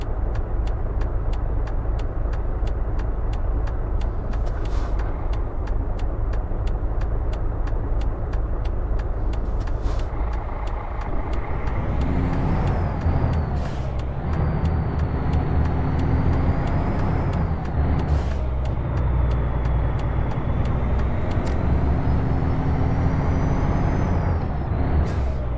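Truck engine droning steadily in American Truck Simulator, with repeated sharp hissing air brake releases and engine revs rising and falling as the rig shifts down and slows, no talking.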